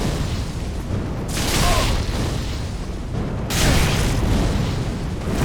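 Two deep roaring fireball explosions from Dark Souls 3 fire magic, each a loud rushing burst about two seconds apart, over a constant low rumble of game ambience.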